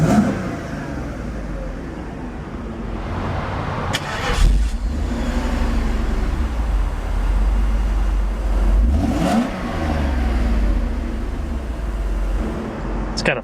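A 1991 Mercedes-Benz 500SL Roadster idles with a steady, loud engine and exhaust drone close by, broken by two sharp revs that rise and fall back to idle.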